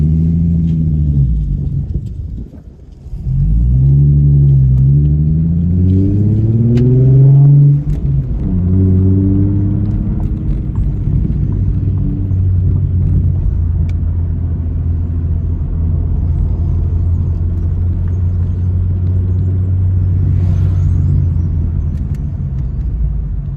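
A V6 Ford Mustang rumbles loudly from inside the car, rising and falling through a few gears as it pulls away. It then settles into a steady, deep drone while cruising.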